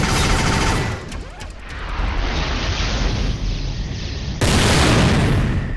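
Rapid, loud bursts of gunfire in Dino Crisis 3, a dense continuous barrage that dips briefly then resumes with a sharp, heavy burst near the end, with no voices.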